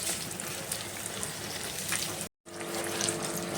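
Mirchi bajji chillies bubbling in hot cooking oil, a steady close-up crackle and hiss that breaks for a short moment and then carries on just as loud.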